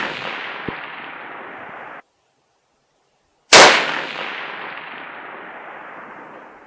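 A .25-06 rifle fires at a 1,000-yard target, one sharp loud crack followed by a long fading echo, with earlier steady range noise and a brief silent cut.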